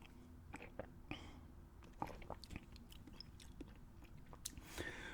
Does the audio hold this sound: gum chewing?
yes